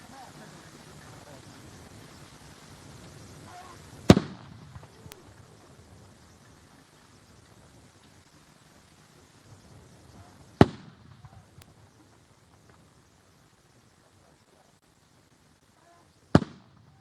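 Artillery guns fire a salute at a state burial service, three sharp distant booms spaced several seconds apart, each followed by a short rolling echo over a quiet outdoor crowd.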